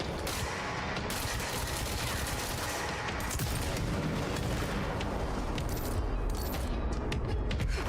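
Gunfire in the video game Control, played on PS5: dense, continuous bursts of rapid shots and booms filling the scene at steady loudness, with no talk over it.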